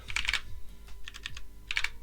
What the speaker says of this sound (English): because I'm typing so quick